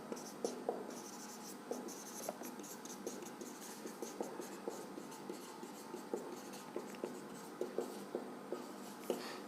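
A pen scratches steadily across paper while notes are written by hand, making faint, close strokes and taps in an irregular rhythm over a quiet room.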